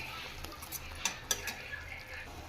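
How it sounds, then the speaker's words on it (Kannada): A spoon stirs turmeric powder into mushroom biryani masala in a pan, giving soft scraping and a few sharp metallic clicks at uneven intervals, quiet and close with no talking. "ಇದಕ್ಕೆ ನಾನು ಅರಿಶಿನ ಪುಡಿ ಸೇರಿಸ್ತಾ ಇದ್ದೀನಿ, ಮಿಕ್ಸ್ ಮಾಡ್ಕೋಬೇಕು"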